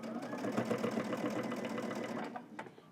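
A domestic sewing machine runs steadily, stitching in the ditch along a seam while sewing Simplicity pattern S3037. The motor hums with rapid, even needle clatter, loud and close, for about three seconds and then slows slightly at the end.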